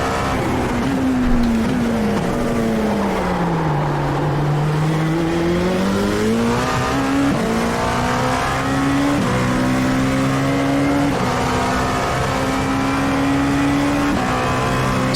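Dallara P217 prototype race car engine at Suzuka in iRacing, a steady loud droning whine that dips and climbs with gear changes and revs through a corner, continuous and close with no talking.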